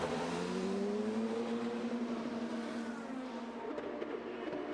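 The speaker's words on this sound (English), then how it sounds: "Super long first gear on these cars. You hear as they pull away, it's really tough to get away and spin the tires." IndyCar race cars pull away from pit lane in a long first gear at the 2020 GMR Grand Prix at Indianapolis, a loud, steady engine drone with rising harmonics that sweep upward as the cars accelerate. No one speaks.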